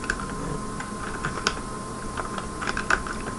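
Code being typed on a computer keyboard for a C programming tutorial, with quick irregular key clicks tapping steadily, close and moderately quiet over a faint background hum.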